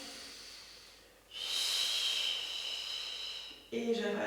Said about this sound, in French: Cette respiration qui m'aide à aller chercher bien profond dans l'abdomen.